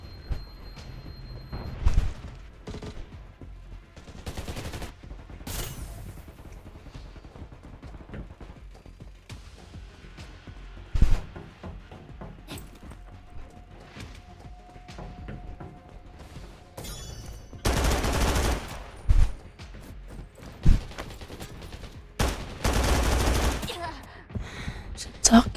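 Gunfire in the video game Undawn, with bursts of automatic shots and heavy booming blasts scattered across a busy stretch, loud at times, mixed with voices talking.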